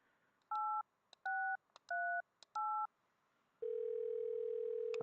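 A phone number keyed on a telephone in the point-and-click adventure game Thimbleweed Park: four quick dual-tone beeps with short clicks between them, then a steady tone that holds to the end.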